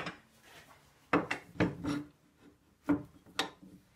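A wooden tool rest being swapped on a wood lathe during a cross-grain forest sheoak box turning, giving a few sharp knocks and scraping rubs of metal and wood at close range, with no talking.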